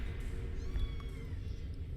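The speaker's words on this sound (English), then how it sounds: "Can you hear the kittens?" Kittens meowing, a few soft, thin high cries over a low rumbling background.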